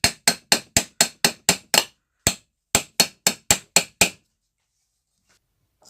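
A hammer taps a ceiling fan part loose from above in a rapid run of sharp, bright strikes. A short pause breaks the run, another burst follows, and then it goes quiet.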